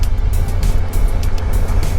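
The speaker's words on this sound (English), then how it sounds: "Only concern is my bike giving that jerky throttle response" A motorcycle engine roars on the road during a touring ride in Uttara Kannada, loud and constant with rumbling low throb and wind buffeting, no speech.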